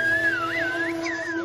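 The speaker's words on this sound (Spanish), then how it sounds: "¿Y de dónde aprendieron los guanches a comunicarse con el lenguaje de los silbidos?" A whistled language used for communication, heard as a clear, close, sustained whistle with rising and falling pitch glides over a steady low musical background.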